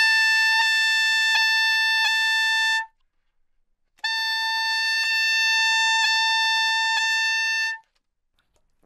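A high altissimo F sharp on saxophone held for about three seconds, then after a pause the same note on another fingering, long and steady, played solo.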